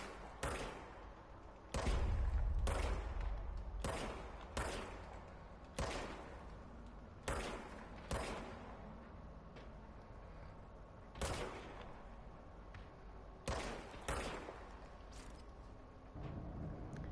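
Gunfire in the Control video game, a string of sharp single shots spaced irregularly over several seconds, punchy and close with brief gaps between them.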